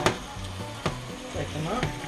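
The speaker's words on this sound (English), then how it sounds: "There should be just enough oil in your meat here to cook your vegetables." Vegetables frying in leftover oil from cooked hamburger meat, a steady close sizzle with a few sharp clicks and scrapes of stirring in the pan.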